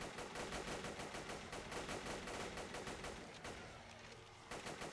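Gunfire from the video game Zomborg rattles in rapid automatic bursts, dense and continuous, then briefly eases before firing resumes near the end.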